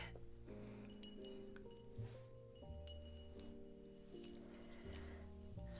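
A bartender handles clean drinking glasses, setting them down with a couple of soft, delicate clinks. The clinks are faint and close against quiet, steady background tones.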